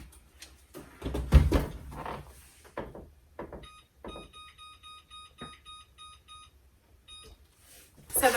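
A kitchen timer gives repeated short high beeps in a steady pattern while timers are set for baking homemade cosmic brownies and oatmeal creme pies, preceded by kitchen clatter and movement, with no talk over it.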